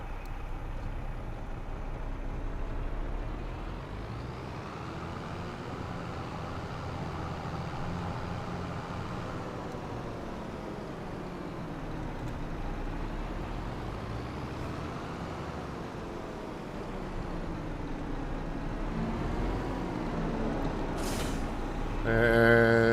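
A New Holland T8 tractor in Farming Simulator 25 drones with a steady, low engine rumble that swells and eases over time, ending with a brief hiss like an air brake release, no talk heard.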